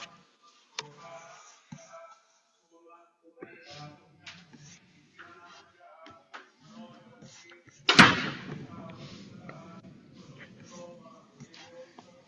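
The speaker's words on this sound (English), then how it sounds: "do you mind closing that door?" A door bangs shut in a classroom, one sharp loud slam with a brief rattle after it, amid scattered quiet voices and small shuffling sounds.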